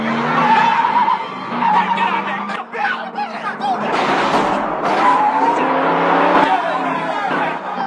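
A car engine revs hard while the car is driven, with skidding tires and loud, continuous motor noise rising and dipping across the scene, and a voice speaking underneath.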